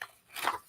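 A paper calendar page being cut with scissors, one brief crisp snipping crunch near the middle of a short, quiet moment.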